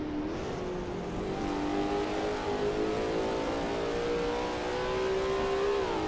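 A Lola T70 MkII Spyder race car in a racing video game at the Österreichring, with a steady, loud engine drone whose pitch climbs gradually and holds high under acceleration, and no talking.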